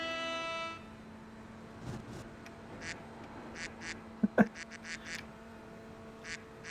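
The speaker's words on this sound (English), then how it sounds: "I don't know why Discord has a duck sound effect." A short Discord duck quack sound effect cuts through quiet background noise, a cluster of brief nasal quacks, with a few scattered softer blips before and after.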